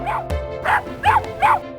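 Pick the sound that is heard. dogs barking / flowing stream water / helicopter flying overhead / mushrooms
dogs barking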